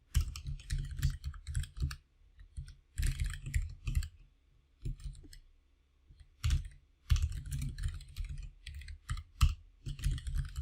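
Rapid bursts of computer keyboard typing as Java print statements are entered, clattering in uneven clusters separated by short pauses, close and clear with no voices.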